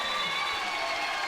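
A basketball crowd at a Bristol Flyers home game against the Plymouth Raiders keeps up a steady, dense roar of cheering and shouting, filling the arena evenly without a break.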